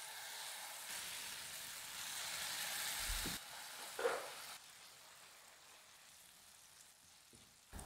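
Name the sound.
semolina batter sizzling in oil on griddle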